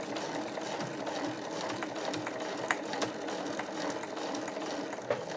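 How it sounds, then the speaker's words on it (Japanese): A home sewing machine with an edge-stitching presser foot sews close along the edge of size 8 canvas for a tote bag, a steady close mechanical whir with occasional sharper clicks as it crosses thicker layers. "立ち目かがり押さえに変えて縫っていきます"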